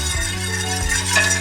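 Pudding powder is stirred into milk in a pot, making a steady continuous swish and scrape close up, with a faint sizzle underneath and no talking.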